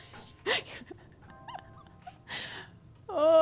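A dog in Fallout: New Vegas gives a few soft, separate whimpers and whines, then a louder rising whine at the end, over quiet game ambience.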